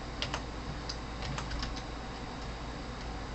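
Light, quick keystrokes patter on a computer keyboard in short irregular bursts, close up and quiet over a low steady hum, with no voice.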